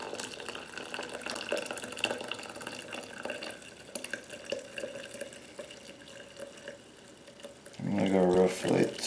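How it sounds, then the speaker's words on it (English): Water pours onto ground coffee in a JavaPresse French press, a steady trickling stream that swells into a louder gurgling fill near the end, with a person talking over it. "the next step is to go ahead and wet the ground coffee"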